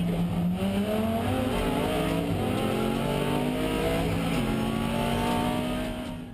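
An Audi R8 race car overtakes during a GT race, heard from inside the cockpit: a loud, steady engine drone with the pitch climbing through gears and a shift near the end, fading slightly at the close.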